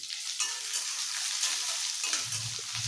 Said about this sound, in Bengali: এবার দিয়ে দেবো কেটে রাখা পেঁয়াজটা এবং লঙ্কাটা। এবার এটাকে মোটামুটি একটুখানি ভেজে নিতে হবে।